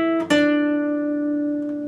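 A plucked guitar note rings out on the G string at the 7th fret, with a brief pick attack near the start and then a long sustained tone that slowly fades, heard close and with nobody talking.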